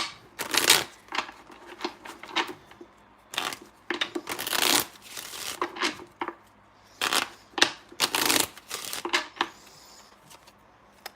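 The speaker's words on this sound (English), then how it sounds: "I'm going to pull a playing card to see if I can figure out when he's going to get back to you." Playing cards shuffled and riffled in quick bursts, crisp flutters and slaps close by, with a card pulled at the end during a tarot reading, no talk over it.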